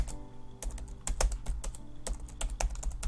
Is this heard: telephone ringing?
no